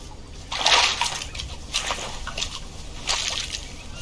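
In the Green Hell survival game, a character washes in water at the water's edge: repeated splashes and sloshes come in short bursts, with trickling and dripping between them at close range.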